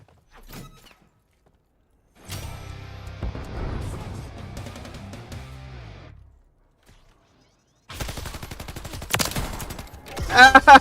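Video game gunfire in bursts, a dense stretch of shots in the first half, then a gap and a second louder volley near the end, with talk around it.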